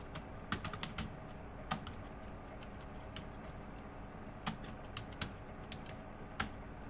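Sparse computer keyboard keystrokes, a few isolated taps with long gaps between them, faint and close against a steady low background hum, during work in a graphic design program.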